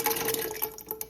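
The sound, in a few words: water being poured into a cooking pot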